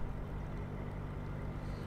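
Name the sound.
PACCAR truck engine cruising at 900 revs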